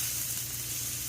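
Beef and vegetable stir fry sizzling in a hot pan as it is stirred, a steady close crackling hiss without any talking.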